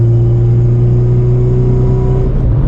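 A 9th-generation Honda Civic Si with an e-tune, its engine droning steadily under load at about 3,500 rpm as VTEC engages, a loud, constant hum that dips slightly near the end.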